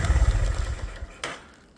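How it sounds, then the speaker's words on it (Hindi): A motorbike engine runs after a cold start with a rough low rumble, loud at first and then easing off, followed by a brief clattering burst and a quieter tail. "अब बाइक कोल्ड स्टार्ट हो रही है।"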